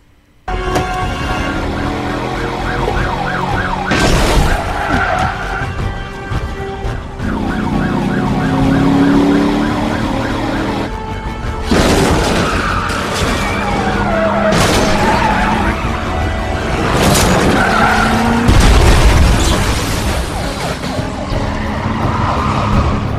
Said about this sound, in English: So let's start off here with car chases.